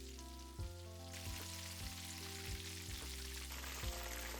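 Chicken breast karaage pieces deep frying in oil at 160 degrees, giving a steady, close bubbling sizzle with faint irregular pops and no voices.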